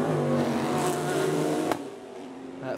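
Race cars at the 2018 Chevrolet Sports Car Classic roar loudly and steadily on track, with engine tones shifting as cars pass close, then dropping away sharply near the end.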